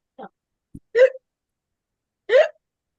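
A voice imitates hiccups: a short sharp catch, then two separate louder hiccup-like yelps about a second apart, close and clear against silence.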